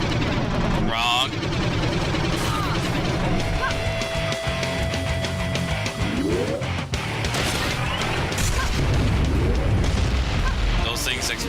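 Explosions in the video game Iji, a dense run of booming blasts and crashing bursts layered over constant game noise, loud and continuous, with a person talking over them.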